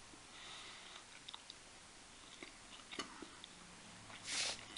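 Someone chews dried, slightly spiced beef jerky from a military MRE, with soft close crunchy bites and mouth sounds spread across the quiet clip and a louder chomp near the end.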